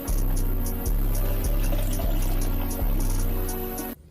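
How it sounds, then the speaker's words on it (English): Tap water pours steadily into a glass at close range, a continuous rushing stream with faint rhythmic pulses, then cuts off abruptly at the end. "first thing I do when I wake up is give me a fresh glass of water"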